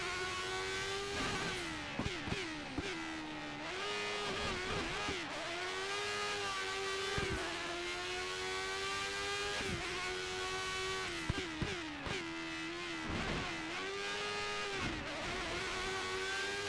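Formula 1 race car engines in the F1 2013 video game, a high whining scream rising and falling through repeated gear shifts and corners, loud and continuous with no talk.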